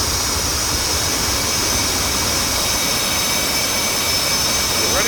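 An F/A-18C Hornet's jet engine runs in the DCS World flight simulator, making a steady, loud, broadband roar that holds unchanged throughout with no talking.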